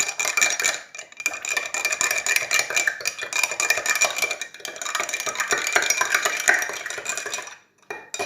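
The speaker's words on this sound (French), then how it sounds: "je viens vider à l'intérieur mes 2 petits sachets d'agar-agar. Et je vais diluer ça." A spoon stirring powdered agar-agar into a decilitre of liquid in a bowl, quick repeated scraping and light clinks in a steady rhythm, close and fairly loud, pausing briefly near the end, with no talk.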